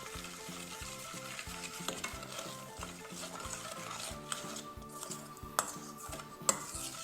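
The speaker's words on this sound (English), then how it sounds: "You need to mix this up until it's nice" Dandelion playdough ingredients are stirred in a bowl, giving a soft repetitive scraping and swishing rhythm close to the microphone, with a couple of light clinks from the utensil against the bowl.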